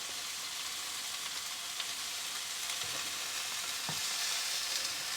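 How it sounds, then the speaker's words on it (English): Burgers frying in a pan at a travel trailer, giving a steady, moderately loud, close sizzle with a few small stirring knocks and no voices. "Burgers are cooking away nicely."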